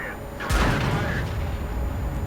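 The FV215B 183 tank's gun fires in World of Tanks: one heavy boom with a sustained rumbling wash afterward, with a voice talking underneath.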